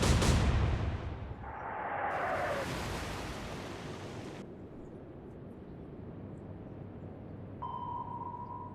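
Naval guns firing in the video game Atlantic Fleet: a sharp, loud blast at the start followed by rushing noise and a long fading rumble, then a faint tonal ping near the end.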